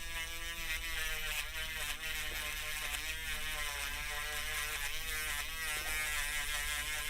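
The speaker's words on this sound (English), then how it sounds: "This one's not wanting to grind" A power tool grinds on tough, strong metal during motherboard repair work, giving a steady, loud, high-pitched whine that holds continuously with slight wavering, close to the listener.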